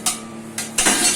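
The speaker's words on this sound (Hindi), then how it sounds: "सावल मांझ बर्तन ने थोड़ा जोर आवे की हाथा में दम कोनी" Dishes and pots being scrubbed and washed by hand, with three quick scraping, clattering strokes close by.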